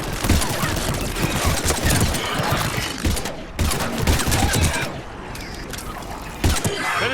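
Rapid, dense gunfire bursts in Mass Effect 3 fill the scene, loud and close, pausing briefly before more volleys, with voices talking in between.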